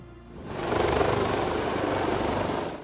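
Rescue helicopter at a mountain accident scene, a loud steady rotor and engine roar that swells in quickly and holds close and constant, with no talk.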